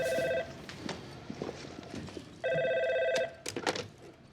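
A telephone rings twice in a Better Call Saul scene at a legal aid office, each electronic trill lasting about a second, with soft footsteps and room noise between the rings and a brief clatter at the end.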